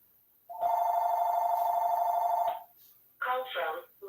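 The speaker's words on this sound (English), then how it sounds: "My phone is ringing." A mobile phone rings with an incoming call, one loud sustained electronic ring tone lasting about two seconds, followed by a short burst of a person talking.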